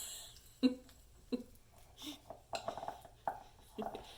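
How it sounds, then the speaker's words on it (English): Pupusa filling being stirred in a bowl, heard as a quiet series of sharp utensil clinks and soft scrapes at irregular intervals, about half a second to a second apart, close by in a calm kitchen. "so mix this up without making noise"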